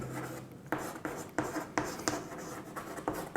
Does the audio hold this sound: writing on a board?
yes